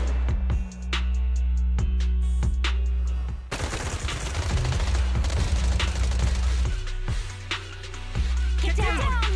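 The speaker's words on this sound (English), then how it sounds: "Gunfire? This pattern. Suppressive marching fire." Rapid suppressive marching gunfire in the video game Zenless Zone Zero, dense bursts of automatic shots and booms rolling continuously with game music underneath.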